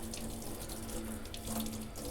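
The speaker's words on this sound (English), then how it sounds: "I push the brush around in the palm of my hand, and then I go ahead and I rinse it off" A soapy paintbrush is rinsed under a running tap into a sink, giving a steady close rush of water that holds evenly throughout with small splashing variations.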